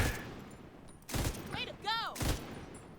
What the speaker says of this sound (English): Look at how much damage I'm doing to these targets. Live firing range.